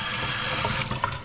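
Fresh water rushes from a kitchen tap in a steady, loud stream for under a second, then cuts off with a few small clunks.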